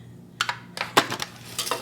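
Foil freezer pans are handled while dishing up slow cooker Salisbury steak, giving a handful of sharp, crinkly metallic clicks and rattles in quick irregular bursts, close and fairly loud with no talking.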